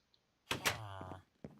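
A wooden door in the Minecraft video game opening and closing, with a hollow creaking swing followed by a sharp knock of it shutting, close and clear with nothing else around it.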